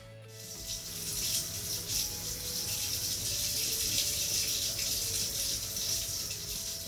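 Shower water running steadily at close range, a continuous hissing spray that holds an even level throughout, with no voices.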